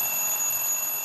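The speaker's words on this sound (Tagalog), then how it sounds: "Alarm mo yan, oh." A digital alarm clock beeps continuously in a high, steady electronic tone, loud and close throughout, with no talking over it.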